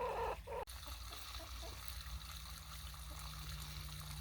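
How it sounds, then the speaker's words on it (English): Water trickles steadily for backyard hens kept cool in summer heat in an olive orchard garden, a continuous quiet stream after a brief louder bit at the start, with faint fowl sounds possible in the background. "The girls appreciate a little running water in this heat."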